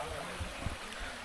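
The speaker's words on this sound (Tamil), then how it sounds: "சுனை தண்ணி வெளியில் வந்து வழிஞ்சு ஓடிட்டுருக்கு" Spring water spills out of a mountain pool on Velliangiri hill and runs away in a steady, soft trickling stream, faint and close, with a couple of low bumps.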